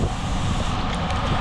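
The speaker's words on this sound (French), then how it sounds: "Le vent, j'aime bien." Wind buffeting a microphone while riding in a cycling race stage, a steady, loud, broadband rush with low rumbling gusts and no voices.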